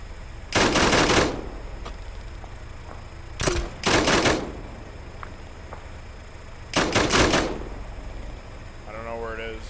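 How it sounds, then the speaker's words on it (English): Bursts of automatic gunfire in a military video game, three separate volleys of rapid shots at moderate distance against a steady background hum, with a brief voice at the end. "We're taking fire off to our right."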